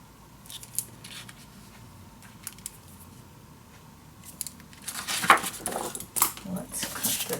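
Scissors cut white paper for a handmade photo frame. A few soft snips and rustles come first, then a denser burst of crisp, close cutting near the end.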